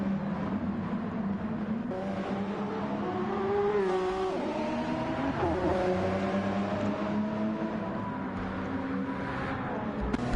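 Audi and Toyota race cars in a racing video game at La Sarthe, engines droning steadily with rising and falling pitch sweeps as the pack of cars accelerates, shifts and jostles for position, loud and continuous throughout.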